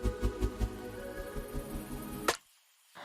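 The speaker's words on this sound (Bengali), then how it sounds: "ভালো করে ঢাকা দিয়ে সেটা ব্লেন্ড করে নেব।" Blender grinding almonds, garlic, salt and pepper for a vegetable mayonnaise, a steady whirring motor hum with rhythmic pulses that stops abruptly, followed by near silence and a faint return of sound.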